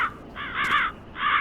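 Crow caws from the Left 4 Dead 2 video game, three harsh calls in a row: two merging near the middle, then one more after a short gap, fairly loud and clear with no voices over them.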